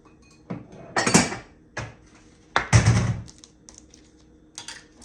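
A bowl and dishes are handled in a home kitchen during cooking, giving several sharp, irregular clacks and clatters of crockery, close and distinct, with quiet pauses between them.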